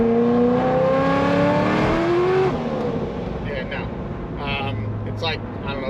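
A 950 hp SBE supercharged LS3 Corvette pulling away on a cold day: a loud, rising engine note with climbing harmonics for about two and a half seconds, then lifting off to a lower idle rumble.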